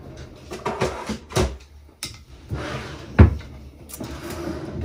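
A bottom drawer of a makeup storage unit opening and closing, with several wooden knocks and sliding thumps, close by amid light handling noise and no speech.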